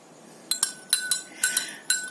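Oil and water are stirred in a glass, giving a series of sharp, bright clinks of a spoon against the glass: about eight quick taps in irregular pairs, close and clear over a quiet background.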